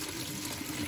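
Water draining steadily through a strainer as soaked blackberries are rinsed and sieved into a container, a continuous close splashing wash with no voices.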